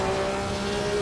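A 1954 Formula One car engine at full throttle in Assetto Corsa racing at the Nürburgring, a steady loud high-revving drone with a sustained tone, alone and close.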